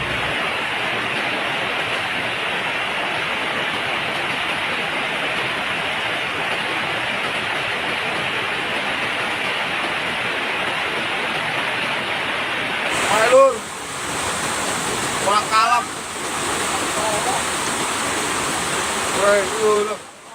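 Floodwater rushing through an overflowing river in Pekalongan, a loud steady roar of churning water filling the scene, with a few brief voices and knocks cutting in near the end.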